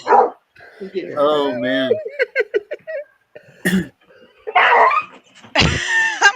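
A dog under attack barks and yelps in sharp, broken bursts, mixed with coughing and excited voices talking over the commotion.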